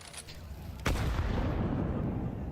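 A grenade detonates in Counter-Strike 2 during a professional match, one sharp loud blast followed by a lingering rumble and tail.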